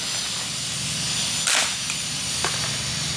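A pellet gun fires once into a PVC pipe target frame with a catch box, giving a short sharp crack with a hiss. A fainter tick follows about a second later over steady background noise.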